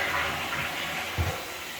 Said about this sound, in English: So we're going to flush the loo as well.